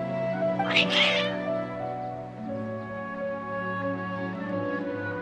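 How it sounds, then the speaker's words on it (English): Cats meowing in a video game, a loud drawn-out meow near the start over a steady game music bed, then the music carries on alone. "Your cats seem pretty worked up."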